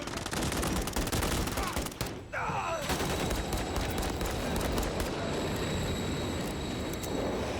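Dense, continuous gunfire and combat noise from the video game Call of Duty: Modern Warfare III, loud and unbroken, with a brief dip in the middle before the barrage resumes.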